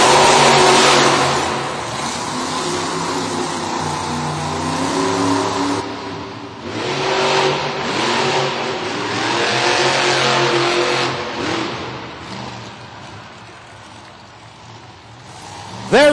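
Monster trucks racing at a Monster Jam event in Cincinnati, engines roaring loudly and continuously with revving swells, crowd noise and an announcer's voice mixed in throughout.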